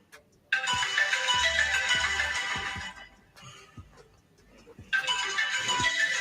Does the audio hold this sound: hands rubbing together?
no